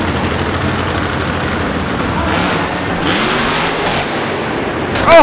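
A monster truck in the Grave Robbers run at Alltech Arena in Lexington, Kentucky, roars at full throttle through a loud, continuous engine and crowd wash, ending in a sharp, heavy impact from a rough landing that broke a sway bar.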